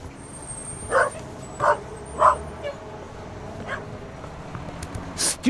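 A dog in The Raven Remastered barks at the player, about four evenly spaced yaps at moderate distance over a low ambient room hum, followed by a couple of fainter yips.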